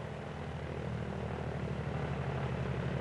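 A Grumman F6F Hellcat propeller plane taxiing, its piston engine giving a steady, rumbling drone with a throbbing low pulse, continuous and moderately distant, no voices.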